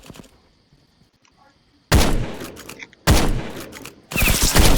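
Sniper rifle gunfire in the browser shooter SkillWarz, three loud, heavy shots spaced about a second apart, each with a long ringing tail, after a quiet stretch.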